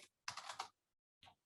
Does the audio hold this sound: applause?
no